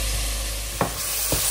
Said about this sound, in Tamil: நம்ம வெட்டி வச்ச வெங்காயம் எல்லாத்தையும் போட்டுக்கிறோம்